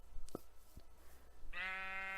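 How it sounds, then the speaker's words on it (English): A Minecraft sheep gives a single nasal, wavering bleat near the end, preceded by a couple of soft clicks and taps in otherwise quiet game audio. "Then if we get, say, a living creature like a sheep,"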